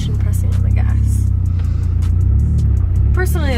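Manual car in reverse as the clutch is slowly released and the gas pressed, a steady close engine drone that rises slightly, with some scattered clicks and knocks.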